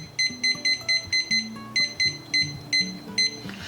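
A kitchen timer gives a rapid series of short, sharp electronic beeps, about a dozen in uneven clusters, as it is set for sourdough bread to rise, close and clear with faint low background sound beneath.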